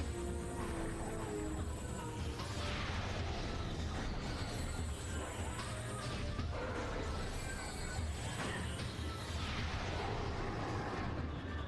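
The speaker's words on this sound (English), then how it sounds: "Yeah, super missile." Super missiles fire and burst with heavy, dense booms in the Metroid game, layered over constant game music and effects that fill the whole stretch without pause.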